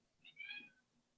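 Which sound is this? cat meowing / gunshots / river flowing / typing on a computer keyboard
cat meowing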